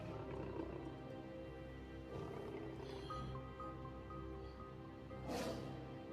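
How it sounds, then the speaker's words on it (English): Low roars of wild big cats rising and fading over a steady rumbling bed, with a louder, brighter burst near the end. "I'm hearing roars"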